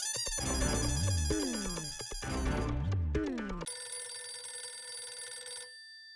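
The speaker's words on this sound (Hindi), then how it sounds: "कहीं मेहता साहब के बॉस मेहता साहब के फोन से तो फोन नहीं कर रहे। क्या करूं, उठाऊं कि नहीं" A phone rings with a bright, repeating electronic ringtone melody, loud and close, cycling through a patterned tune before settling into a sustained tonal ring that cuts off near the end, with no talking.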